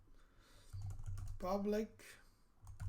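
Keys clatter on a computer keyboard while someone writes code in VS Code, a quiet run of clicks that continues under a voice speaking briefly.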